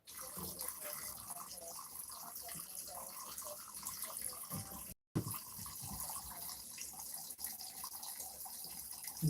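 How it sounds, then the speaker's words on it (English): Water running from a tap to fill up a container, a soft, steady hiss heard at a distance that cuts out briefly midway and then resumes. "We gotta go fill up the water."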